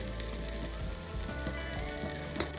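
Turmeric, chili powder and spices fry in a pressure cooker for egg biryani, giving a steady close crackling sizzle with faint stirring scrapes and no voices.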